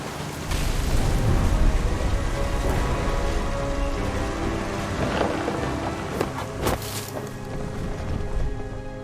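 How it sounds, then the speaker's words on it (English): A stormy downpour in the video game What Remains of Edith Finch, with steady heavy rain hissing throughout, a few sharp cracks and low thunder rumbles rolling underneath, continuous and fairly loud. "The thunder sounded much too close and full of angry power."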